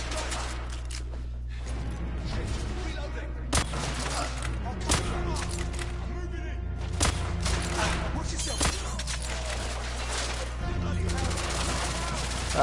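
Machine gun fire in The Order: 1886 video game, rapid bursts of gunshots and sharp cracks repeating through the whole stretch, loud and close, mixed with other combat noise.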